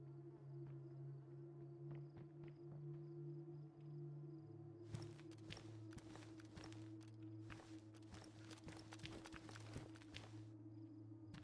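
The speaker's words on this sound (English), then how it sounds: "It sounded like two sets of footsteps" Footsteps in the survival video game DayZ, set on a Siberia map, sound as a run of scuffing, irregular steps over a low steady hum, growing busier and denser in the second half, fairly faint and at a distance.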